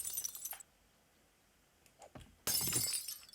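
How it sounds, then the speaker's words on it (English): Picture frames are smashed in the video game 7 Days to Die: two sharp bursts of breaking glass, one brief at the start and a louder shattering crash near the end, with near-silence between. "Any other pictures to be smashed?"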